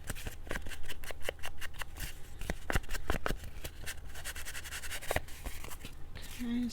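Paper book pages cut with a cutter, a close run of quick crisp snips and slicing clicks, dense at first and then sparser.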